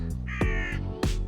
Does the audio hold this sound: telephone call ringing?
no